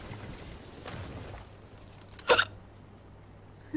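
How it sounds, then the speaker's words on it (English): A single sharp, close hiccup from a person during a Fortnite stream, a brief double burst standing out against quiet background hum, with faint murmuring beforehand. "And now I've got hiccups."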